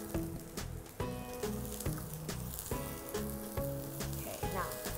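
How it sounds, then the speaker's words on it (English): Baby carrots sauté in a pan for a one-pan scallop and tomato millet dish, giving a steady, close hiss of sizzling oil under rhythmic background music for the whole stretch. "I'm just gonna add the baby carrots and I'm gonna saute them"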